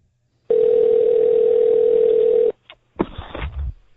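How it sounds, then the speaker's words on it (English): A steady telephone dial tone holds for about two seconds, then cuts off into brief clicks and a burst of ringing call-connection noise, loud and close over a phone line. "It's dialing. It's ringing."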